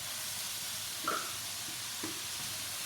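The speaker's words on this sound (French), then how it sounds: "Cette poudre-là, on va la mettre à rissoler avec un petit peu d'oignon" Nettle powder and a little onion fry in a pan with a steady, soft sizzle and hiss, broken by a couple of brief stirring clinks.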